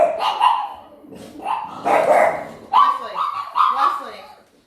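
Dogs bark and yip in several sharp bursts close by, with a whimpering, whining quality between barks.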